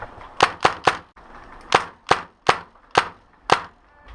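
Airsoft guns fire sharp, close snapping shots in a woodland field game, three quick shots in a burst followed by five more single shots spaced at steady intervals.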